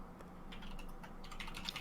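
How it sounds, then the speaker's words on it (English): Fingers tap quickly on a computer keyboard, giving quiet, fast, irregular clicks that sound slightly distant in a calm room. "Oh, I hear some typing"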